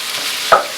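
Garlic sizzling in a pan for Filipino pork adobo, a steady close hiss with one brief stir or clink partway through.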